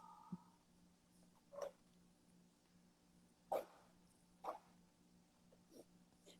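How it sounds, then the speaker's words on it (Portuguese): A dog barking at home, giving a few short, isolated barks spaced seconds apart, faint and somewhat distant over a quiet background hum. "Aqui em casa o cachorro late"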